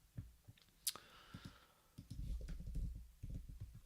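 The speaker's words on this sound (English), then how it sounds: "if I can click on the right things here" Computer mouse clicks, a handful of quiet, sharp taps spaced irregularly, close up, with faint rustling and low thuds around them.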